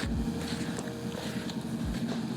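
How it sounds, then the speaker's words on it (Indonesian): A motorcycle passes by outdoors, an engine drone with a low rumble rising and fading at a distance, heard alone without talk. "Oke, ada motor lewat guys."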